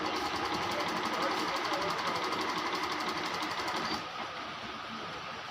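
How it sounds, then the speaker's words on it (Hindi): Janome sewing machine stitching a zigzag pattern, a fast steady mechanical chatter close up that drops to a quieter hum near the end. "ये देखिए जिगजैग बना रही है मशीन"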